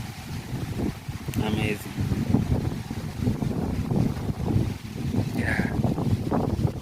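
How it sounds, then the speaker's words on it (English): Wind gusts steadily through trees along a village hiking trail, a constant rushing broadband roar with buffeting on the microphone, while a person speaks briefly over it. "look at the trees. They are dancing to the tune of wind"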